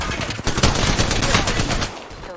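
Rapid gunfire from a pistol in Apex Legends, a dense continuous barrage of shots with game effects filling the whole stretch before trailing off.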